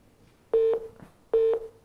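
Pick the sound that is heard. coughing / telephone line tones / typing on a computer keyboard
telephone line tones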